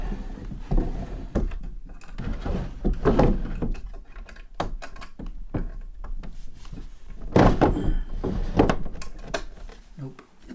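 Drawers in an old manor house are pulled open and rummaged through, giving repeated wooden thunks, slides and knocks close by, uneven in rhythm, with people talking now and then.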